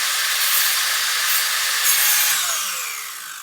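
Power tool cutting wood pieces for a homemade hi-fi stand, a steady bright hissing whine that runs throughout and tapers off near the end, close and loud with no voices.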